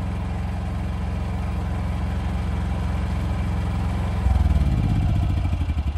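A portable generator's small engine runs with a steady low, rough chugging that grows louder and heavier near the end as it picks up, close and continuous.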